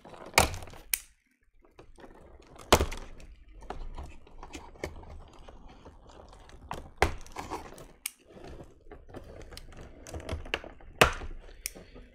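Plastic bands and twine being cut off Transformers Jetfire toy packaging: sharp, irregular clicks and snips, close and fairly quiet, spaced out with brief gaps.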